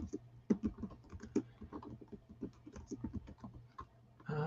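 Rapid keystrokes on a computer keyboard while entering data into a spreadsheet, an uneven patter of close, crisp clicks with brief pauses, ending in a louder burst of handling noise.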